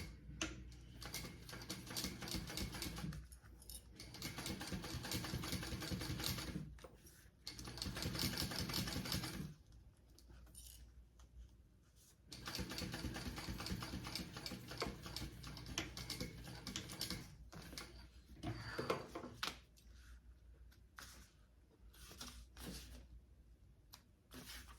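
Sewing machine stitching a row of topstitching on the slip pocket of a sling backpack, running in several steady bursts of fast mechanical clatter separated by short pauses.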